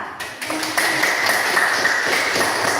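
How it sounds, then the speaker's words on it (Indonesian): Classroom audience clapping for a student presenter, a dense steady patter of many hands that starts partway in and carries on to the end at moderate loudness. "Please applause for Tansa."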